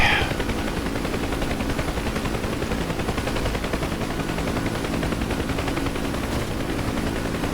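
Gunfire striking an aircraft in the DCS combat flight simulator, set against a steady, loud drone of rotor and engine noise that runs unbroken throughout, with a bright crackle at the very start.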